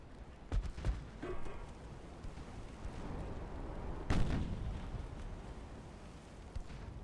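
Naval guns in Ultimate Admiral: Dreadnoughts video game thud in a sea battle, with several booming blasts, one heavy strike near the middle, over a constant low rumble of distant fire.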